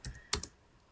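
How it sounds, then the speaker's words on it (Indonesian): Three quick, close keystrokes on a computer keyboard as a command is typed, crisp and alone, with the last two taps close together. "untuk pengujian DNS ini kita cukup ketikkan ns lookup"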